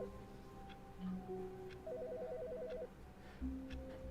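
A faint electronic telephone ringtone in The Stanley Parable plays in short patterned bursts of beeping tones under a quiet ambient hum, with a trilling warble in the middle.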